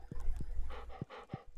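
A dog from the video game Stardew Valley panting in quick rhythmic breaths, close and moderately loud, with soft low thumps mixed in.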